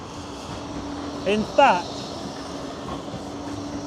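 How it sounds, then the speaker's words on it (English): A Blackpool tram rolls along its tracks in the middle distance with a low steady rumble and a brief squeal of wheels, while someone speaks briefly nearby. "Tram's on its way to Stargate there."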